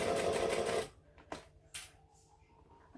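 Sewing machine stitching vinyl along piping: a steady close whir that stops abruptly, followed by scattered faint clicks and handling taps, then the motor starting again at the very end.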